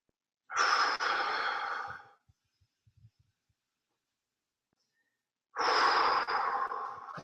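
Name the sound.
strong vocal breathing out during a leg stretch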